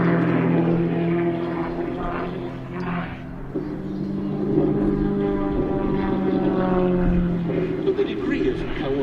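A full-size propeller aircraft and a model aircraft fly together at an airshow, a steady droning engine hum with shifting pitch as they pass, heard under a commentator talking over a loudspeaker.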